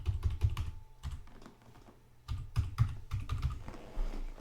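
Keystrokes on a computer keyboard entering a username and password at a Linux login screen, in clustered bursts of close, clicky taps separated by short pauses.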